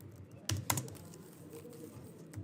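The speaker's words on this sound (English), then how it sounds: "I'm just randomly typing these numbers" A few quiet, scattered keystrokes tap on a computer keyboard while someone types code, with a couple of close clicks near the start and one more at the end.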